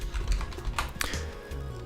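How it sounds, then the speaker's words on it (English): Someone types a short DOS command on a computer keyboard, giving a quick run of close, irregular key clicks with a slightly louder keystroke partway through. "So typing in md games"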